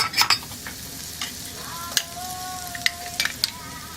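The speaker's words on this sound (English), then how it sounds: "We're just gonna squeeze our garlic into the pan." Pressed garlic hits a hot pan while cooking sweet potato hash, giving a soft steady sizzle broken by a few sharp scrapes and clinks from stirring, close by.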